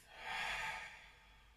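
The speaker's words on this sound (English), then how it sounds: "Exhale out of the mouth." A slow, soft breath exhaled through the mouth during a gentle hatha yoga practice, rising and fading over about a second, close and quiet with no talk over it.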